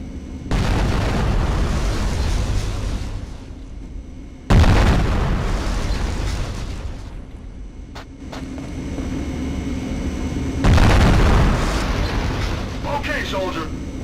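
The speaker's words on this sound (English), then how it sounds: "Use the M67 grenades on the targets and let's see how many you can get." M67 hand grenades explode on targets in the video game Conflict: Desert Storm II. Three heavy booms land several seconds apart, each followed by a long rumbling decay.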